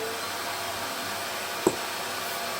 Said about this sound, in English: we put the hoover on